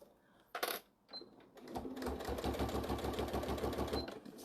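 A sewing machine stitching backwards along a line on a fabric bag, running in a fast steady rhythmic chatter for a few seconds after some brief handling clicks, close and fairly loud with no talk over it.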